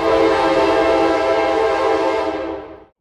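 A loud, steady train horn blast held for nearly three seconds before cutting off, rich and sustained, heard alone.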